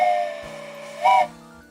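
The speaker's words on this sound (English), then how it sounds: "There we go, a little train whistle for you" A short steam-style train whistle played as a sound effect during a train-building game stream, a single bright sustained toot rising out of a faint background hum, fairly loud and brief.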